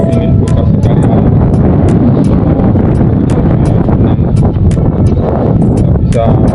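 Strong wind buffets a microphone outdoors by a river, a loud, continuous broadband roar with rumbling gusts and a few faint clicks.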